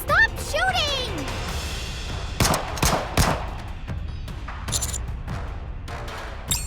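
Gunfire from the video game Nikke: Goddess of Victory: several sharp shots and bursts ring out irregularly, mixed with game sound effects, while a voice speaks near the start.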